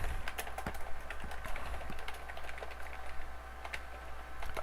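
Steady typing on a computer keyboard, with quick irregular key clicks close by over a faint constant hum and no talking.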